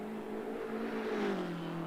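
A BMW race car engine in Assetto Corsa Competizione drones steadily at high revs, its pitch sliding slightly lower toward the end, with a smooth continuous whine and no voices.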